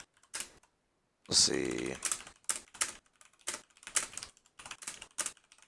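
Keys clatter on a computer keyboard in quick irregular bursts of clicks with short pauses between them, close and moderately loud, and a voice speaks briefly near the start.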